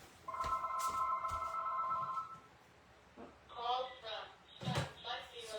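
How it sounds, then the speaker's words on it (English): A telephone rings in repeated bursts, each steady electronic trill cut by brief pauses, close and fairly loud in a room; a person talks over and after the rings. "There goes the phone."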